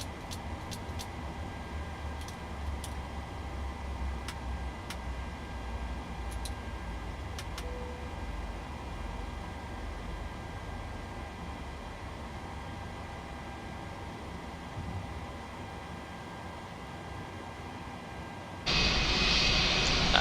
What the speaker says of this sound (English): Can shut down both engines.